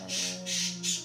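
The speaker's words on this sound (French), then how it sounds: "vous entendez aussi le petit oiseau, Loulou" A small pet bird named Loulou squawks and chirps in three close, loud bursts over a steady low hum.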